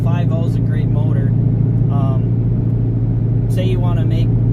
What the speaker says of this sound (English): you can hear the rumble, which is really nice, but it's not in your face